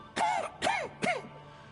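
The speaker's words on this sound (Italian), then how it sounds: "Varric tossisce" Varric, a character in the video game Dragon Age: The Veilguard, coughs three times in quick succession, rough and throaty, close and moderately loud, with no talking.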